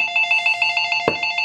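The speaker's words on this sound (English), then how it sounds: "phone call" A telephone rings for an incoming call with a steady pulsing electronic ring, loud and close, broken once by a sharp knock or handling thump, with no voices.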